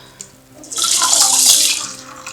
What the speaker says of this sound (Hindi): तो अब हम इसमें डालते हैं पानी